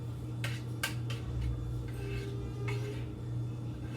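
Meatloaf ingredients are stirred together in a bowl, giving repeated sharp clinks and scrapes of a utensil against the dish at an irregular pace, close by with no talking.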